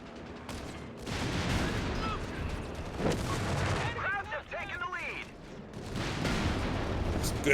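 Machine gun fire in a Company of Heroes 3 1v1 tournament match, with rattling bursts, scattered shots and heavy booms over a busy battle backdrop while a commentator talks throughout.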